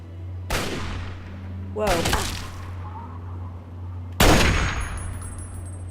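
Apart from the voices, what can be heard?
sniper rifle gunfire in video game Fallout 3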